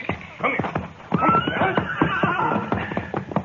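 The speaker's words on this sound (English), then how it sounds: "All right, you take the gray horse, Jane." A horse whinnies loudly and close by, a long shaky neigh after a few short snorts and sounds.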